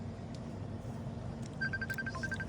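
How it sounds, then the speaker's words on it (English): A mobile phone belonging to a cameraman rings at a fishing resort, a short run of bright electronic ringtone beeps starting partway through over a steady low background rumble, with no talking. "Cameraman's phone's going off"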